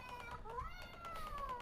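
A toy cat meows when its button is pushed, giving a thin, wavering electronic meow that rises and falls in pitch, faint and steady, with a few soft bumps in the background.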